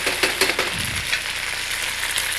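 Snow peas tossed into a hot wok hiss and sizzle loudly in a steady stir-fry, with a few scraping clatters early on and no voices.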